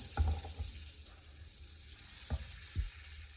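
Butter sizzles and fries in a flat non-stick pan as the base for butter garlic eggs. A steady soft hiss runs throughout, broken by a few low knocks of a utensil against the pan.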